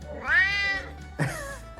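A cat gives two close, loud meows in a row, the first long and drawn out and the second shorter and sharper, with no talking over them.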